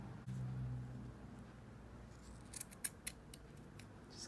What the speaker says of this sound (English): I'm just going to trim it so that it's all even